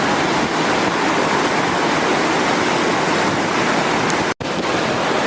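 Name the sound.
glacier-fed river flowing down the mountain into the Kali river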